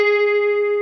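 One steady, sustained electric guitar note on the 13th fret holds at an even loudness for the full moment, clean and alone.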